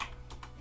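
Rapid keystrokes on a computer keyboard while PCs are being built, clicking in quick bursts at close range, with no voices.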